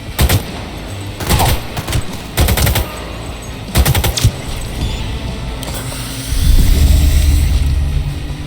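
Bursts of automatic gunfire from a weapon in the video game Cyberpunk 2077, loud and close, coming in several short volleys with brief gaps between them, followed by a low rumbling engine-like drone near the end.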